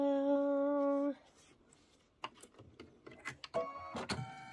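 An embroidery machine starts stitching a stem, a run of quick mechanical clicks and needle taps after a steady motor hum, fairly close and without voices.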